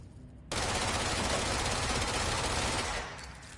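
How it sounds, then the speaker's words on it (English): Sustained rapid gunfire in the video game Control, bursting in suddenly and roaring loud and continuous for about two and a half seconds before tapering off, with no talk over it. "shooting it didn't work"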